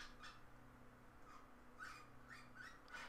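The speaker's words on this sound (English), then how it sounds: "my bird is getting very chatty" A pet bird chatters indoors in short, repeated squawky bursts, moderately close and fairly quiet over a low room hum.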